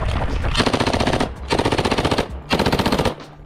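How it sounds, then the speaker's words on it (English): A Thompson M1A1 submachine gun fires three loud, close bursts of rapid automatic shots in a competition shooting setting, with brief pauses between the bursts. "The Thompson M1A1."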